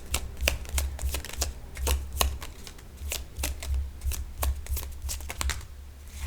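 Tarot cards riffled and slapped down from a deck, a steady run of crisp papery flicks and taps over a low hum, close and alone with no voices.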